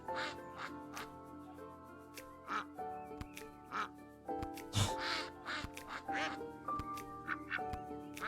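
Cartoonish duck quacks from the Lil Guardsman video game, several short bursts scattered among steady game music and sound effects, moderately loud throughout.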